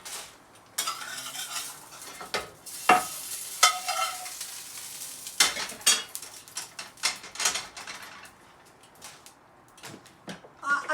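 Pork frying in a pan with a very small amount of oil, a soft sizzle under repeated clinks and scrapes of a utensil stirring the meat close by, in a home kitchen.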